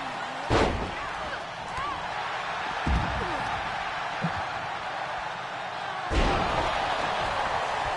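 A backbreaker slam in the WWE 2K23 wrestling video game, with heavy thuds onto the canvas at a few points over a constant crowd roar while a commentator keeps talking.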